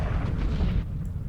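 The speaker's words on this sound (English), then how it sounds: "The bottom cannons are just firing away." Spaceship cannons in Homeworld Remastered fire continuously in a dense, rumbling barrage of overlapping booms, loud and steady with no pauses.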